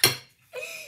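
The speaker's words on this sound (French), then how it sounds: "on mélange avec bien sûr la même cuillère" A spoon clinks against a bowl once, then scrapes and stirs briefly through a candy kit mixture, close and fairly quiet.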